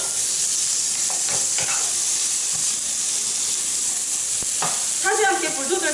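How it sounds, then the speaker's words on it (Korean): Squid and onion stir-frying in a hot pan for Korean ojingeo-bokkeum, a steady loud sizzle and hiss throughout, with occasional scrapes of a utensil and a brief burst of crackling near the end. "그 다음에 양파 한번 쓱 볶아주고 오징어 바로 넣으세요."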